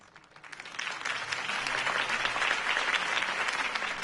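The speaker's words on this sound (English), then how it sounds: "If only Mr. Wayne, my campaign's largest backer, could have heard that applause" Crowd applause from the Batman: The Telltale Series video game swells in after a brief quiet start, then holds as dense, sustained clapping from a large audience.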